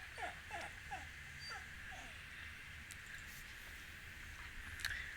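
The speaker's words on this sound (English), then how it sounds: "you're hearing my dog." A pet dog whimpers in a short run of soft, rising whines early on, then falls quiet, heard close by against a steady background hum.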